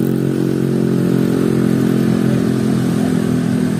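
Motorcycle engine idling and lightly revving nearby at a street protest, a steady mid-pitched rumble with faint clattering throughout.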